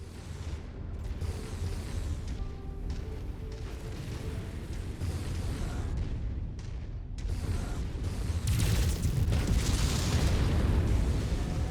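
AC-10 autocannon in MechWarrior 5 firing in a run of heavy, rapid booms with explosions, dense and loud throughout and building toward the end over low rumbling mech machinery.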